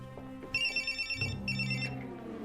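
A telephone rings in a Fringe episode, two bright electronic trilling bursts close by, separated by a short pause, over faint low background sound.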